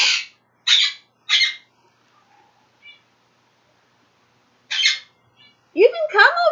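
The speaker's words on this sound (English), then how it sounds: "he's still squawking away over there" A pet bird gives loud, harsh squawks: three quick ones in a row, a pause, then another, before a person's voice speaks close by.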